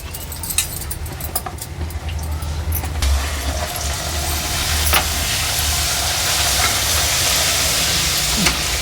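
Puris fry in hot oil with a loud, continuous sizzling hiss and scattered crackles and pops, growing slightly fuller as the frying goes on. No voices are heard.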